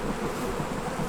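Dense, steady buzzing of many honeybees in freshly opened hives of strong splits on pallets, a continuous close drone with no talk.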